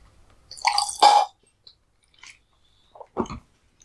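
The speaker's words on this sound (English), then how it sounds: "If you hear any weird squirting noise throughout this podcast, it's my water bottle" A squirting water bottle gives two short, wet, squishy bursts close to the mic, separated by near silence and a few faint clicks, with no talking.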